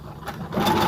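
Brother sewing machine stitching a buttonhole on a vest, starting with a few soft clicks before the motor whirs up into a steady close, loud running buzz.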